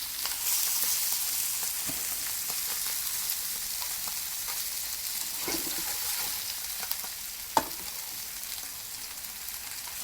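Sausages and vegetables sizzle steadily in a pan, a dense continuous frying hiss with occasional scrapes and clinks of stirring, close and moderately loud throughout.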